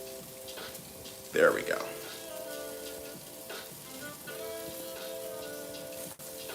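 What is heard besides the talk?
sauteing in butter sizzling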